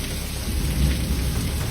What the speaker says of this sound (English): A powerful lightning strike hit a transformer and a large pine tree in Murray Hill.